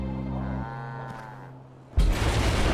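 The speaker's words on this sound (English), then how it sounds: "Right now, Mr. Cow is just hanging out with his buddies." A cow at a highway crash site gives a long, low, steady moo that fades out, followed by a short pause and then an abrupt burst of loud, broadband rumbling noise.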